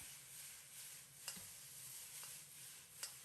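Light soy sauce hitting a hot wok with sliced pork and onion, a faint, steady sizzle close by with a couple of soft scraping stirs.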